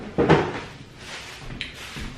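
A small kitchen drawer slides and knocks shut once, close by, with a heavier thump near the start followed by lighter clicks and rattles.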